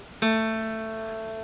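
A single plucked guitar note, A on the second fret of the third string, rings out cleanly and sustains, slowly fading, with no other sound.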